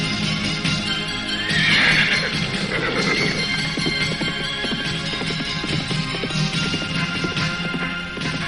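Horses are ridden at speed, with a loud whinny near the start over a steady drumming of hooves. The riding noise carries on throughout, fairly close and full, with no voices.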